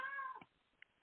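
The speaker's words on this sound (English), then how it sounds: "I'm apologizing in advance for my cat." A pet cat lets out a loud, close meow that trails off, followed by a short pause, a faint chirp and the sharp start of another cry.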